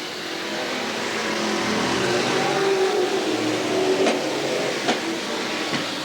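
Stock cars racing around Willamette Speedway in 1989, a steady loud roar of engines passing close by, sustained throughout with a few sharper accents near the end.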